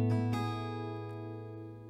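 An acoustic guitar chord strummed from the A string down rings out once and sustains, slowly fading, clear and close with no talking.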